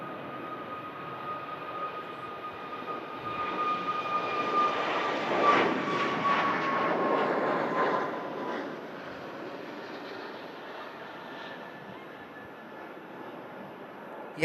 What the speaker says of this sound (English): King of the Skies, Emirates A380. How does this thing get off the ground?